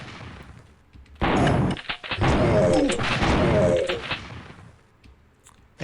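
Gunfire in the first-person shooter Killing Time, a dense burst of shots and loud in-game action from about one to four seconds, with quieter ambient game sound before and after.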